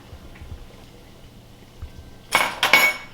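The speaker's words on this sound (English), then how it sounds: "I'm just putting the gaskets on the underside of the lid, and then I'm just putting the lids on the top" Lids with rubber gaskets set onto glass jars of apple peeling jelly, a quiet stretch and then a short burst of bright glassy clinks and clatter near the end.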